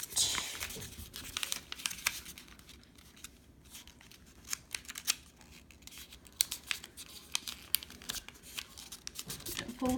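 A sheet of paper is folded for a Han Solo origami figure, giving crisp crinkles, scrapes and sharp creasing snaps at close range, with a person talking over the folding.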